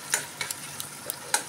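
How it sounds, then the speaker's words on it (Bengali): A spoon scrapes and stirs spice paste with melted tomato in a pan, giving several short clinks and scrapes over a low, steady sizzle. "এবার এটাকেই ভালোভাবে নাড়াচাড়া করে নেব।"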